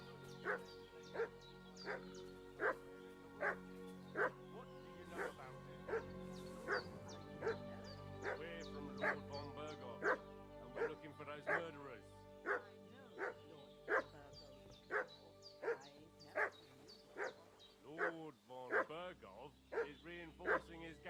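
A dog barks repeatedly in the video game Kingdom Come Deliverance 2, a steady run of sharp woofs and yips at fairly regular intervals, mid-distance over quiet ambience, with brief whimpering near the end.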